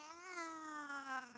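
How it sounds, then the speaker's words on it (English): A Siamese tabby cat lets out a single drawn-out, wavering meow, close and fairly clear, with no talking over it. "You may hear some meows. He's a Siamese tabby, so he's very, very vocal."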